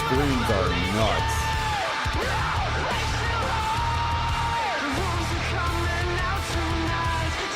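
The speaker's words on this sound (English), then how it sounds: "These screams are nuts." Several voices yell and shriek in a loud, continuous game soundtrack, with wavering cries rising and falling over a dense, steady low rumble.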